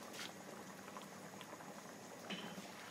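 Dal mash, a lentil dish, bubbling steadily in a pot with a continuous soft, even simmering texture, fairly quiet and close, with no one talking.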